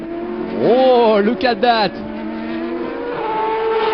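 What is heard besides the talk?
race cars drag racing at Zolder, Nissan World Series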